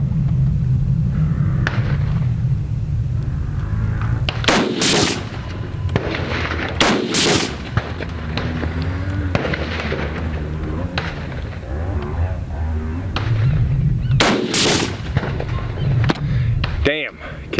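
MK-14 EBR rifle fired in a video game at a string target, several sharp loud single shots spaced irregularly, with a low engine-like rumble underneath throughout.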